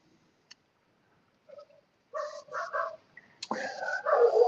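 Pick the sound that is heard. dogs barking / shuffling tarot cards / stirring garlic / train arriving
dogs barking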